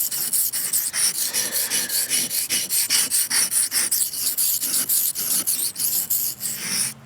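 A knife is sharpened on a cheap sharpening stone, each quick rasping stroke sounding in a steady back-and-forth rhythm, close and alone, roughly three strokes per second.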